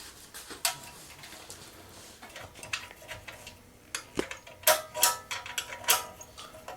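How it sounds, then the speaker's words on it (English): Metal back cover of a Hobbit stove being fitted into place, with scattered clanks, scrapes and a few sharper knocks close by, growing busier toward the end. "put the stove back on its feet and fit the back cover"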